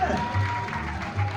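Audience applause at a live comedy show, a dense patter of clapping heard under someone talking over it.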